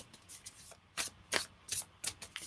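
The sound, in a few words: shuffling tarot cards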